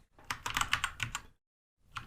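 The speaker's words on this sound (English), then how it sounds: "say I start typing something" Rapid keystrokes on a computer keyboard clatter close to the mic in a quiet, uneven burst for about a second, then stop briefly before a few more keys are tapped.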